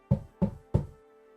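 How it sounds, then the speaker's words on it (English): Three firm knocks on a door sound in an even, unhurried rhythm, each a close, resonant thud with a brief wooden ring that decays quickly, followed by quiet. "a knock comes on your door"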